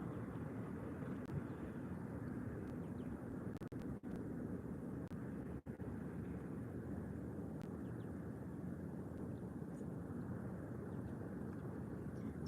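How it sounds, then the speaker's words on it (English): Passenger airliners coming in to land at Málaga airport, among them a Volotea A319 from Asturias, heard as a steady, broad jet roar held at a fairly even level throughout with wind rumble underneath. "Volotea from Asturias, A319, is also landing."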